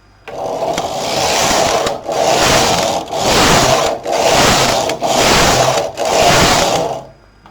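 An SK 280 knitting machine in operation: the carriage makes six loud, rhythmic rasping sweeps back and forth across the needle bed, each a second or so long and separated by brief pauses, with no voices.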